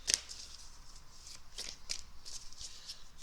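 Tarot cards shuffled by hand for a reading, a quick series of soft riffling flutters and papery slaps, close and clear with no talking.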